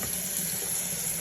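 Makeup brushes are rinsed under a running tap, giving a steady, close hiss of water splashing into a sink with no pauses or voices.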